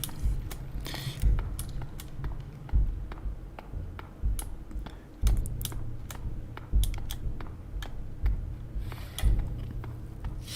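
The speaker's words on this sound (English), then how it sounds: "Unless Michael is still typing something." Typing on a computer keyboard, quiet scattered key clicks in short irregular bursts with occasional louder thumps, over a low steady background hum and no talking.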